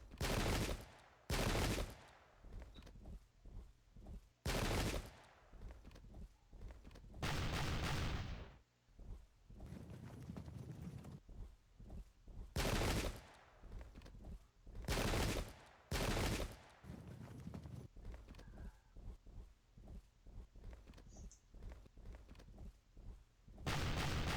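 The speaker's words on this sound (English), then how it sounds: "These stupid attach light guns just make them fire off their ammo before it's effective." Volleys of gunfire from light guns in the strategy game Pike and Shot, loud repeated bursts of musketry and booming shots rolling out in clusters with brief gaps over an extended stretch of battle.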